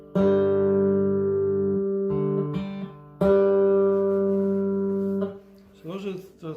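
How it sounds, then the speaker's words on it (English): Both G strings of a cigar box guitar plucked together, ringing out as a sustained, twangy unison tone, struck twice with a few brief notes in between, followed by a short burst of muffled voice at the end. "I take both G strings and hit them together."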